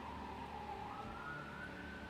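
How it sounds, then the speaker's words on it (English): A wailing ambulance siren passes at a distance, faint and steady beneath a constant background rumble, with no talking. "Uh-oh. The ambulance is coming. I assume you can hear that."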